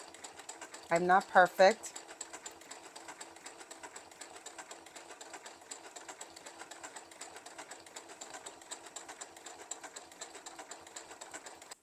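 A sewing machine stitches a quilt, a brief loud burst of rapid mechanical clatter near the start, followed by a long steady low hum and faint ticking while a voice speaks briefly.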